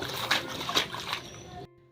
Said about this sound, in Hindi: छप छप करने में बहुत मज़ा आती है यहाँ पे